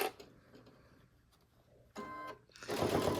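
Brother NQ3550W sewing machine piecing a quilted table topper, quiet ticking and a low hum, then short buzzing bursts of stitching near the end, close and moderately loud.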